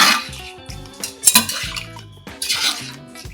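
A spoon scrapes and clanks in a pot as chicken pulao with chittimuthyala rice is mixed with fresh coriander, close and busy with metallic knocks and stirring.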